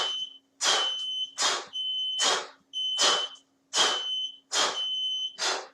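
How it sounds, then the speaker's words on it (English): Repeated electronic beeping from a workout interval timer during a shadow kickboxing session, seven bursts of about half a second each in a steady rhythm, loud and close, with no talk over it. "Switch the timer off while I talk"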